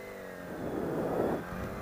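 An engine is given a little gas while the clutch is held in the friction zone, its steady note swelling into a moderate rev and then easing back down, close by and alone.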